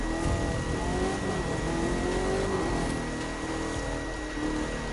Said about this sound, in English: looks like one limousine drip car is on the track